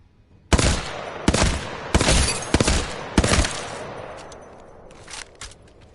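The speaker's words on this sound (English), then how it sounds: "We then have the Hemlock burst rifle, which is another one of the better guns in the game." Loud close bursts of rifle fire from the Hemlock burst rifle in the video game Apex Legends, five or six rapid clusters of shots in quick succession followed by a fading tail and faint clinks.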